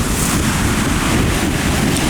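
Surf rolls in at Rialto Beach in Washington as the tide comes in, a loud, continuous wash of breaking waves mixed with heavy wind buffeting on the microphone.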